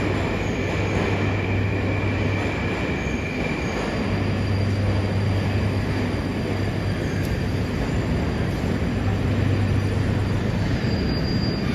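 Moscow metro train running through Kievskaya station, a loud steady rumble of wheels on rails with a sustained low drone that swells in pulses, plus a faint high squeal near the end; no talking.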